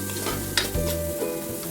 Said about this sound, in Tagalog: lagyan ko na lang ng mantika para i-gisa natin